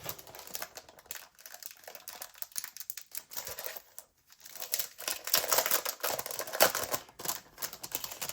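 Zip pouches are torn and crinkled open from their packaging, with quiet, close rustling and scattered sharp crackles that come in uneven bursts.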